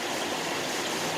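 A stream flows steadily in an outdoor spot, a dense, even rush of water close by with no breaks or voices over the brief moment.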